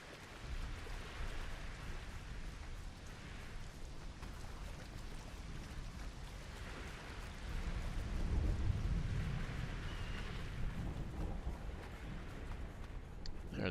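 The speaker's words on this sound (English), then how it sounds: "There's a storm coming." In a video game, a thunderstorm brings a steady wash of heavy rain. A low thunder rumble swells partway through and fades back under the downpour.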